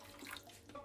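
A short splash of water from a tap poured over wooden skewers for chicken shashlik, a steady running-water rush lasting under a second, fairly faint and with no talk.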